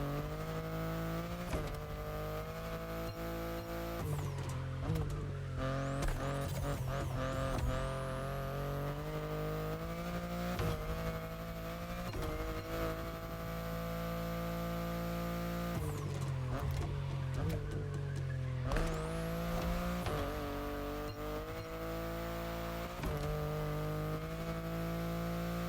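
BMW car drifting in the racing game Motorfest, its engine droning loud and steady with revving pitch swings and sliding tire noise through the whole stretch.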